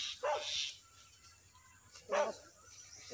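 A tracker dog barks twice, a couple of seconds apart, at moderate distance over a low steady background hum, alone without speech.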